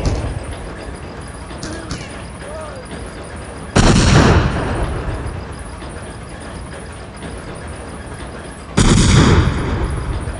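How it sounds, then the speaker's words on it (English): Explosions and gunfire in the video game Nocturne: two loud, sudden booms several seconds apart, each trailing off into a rumble, over a constant low background roar. "I'm assuming I have to go where the explosion is."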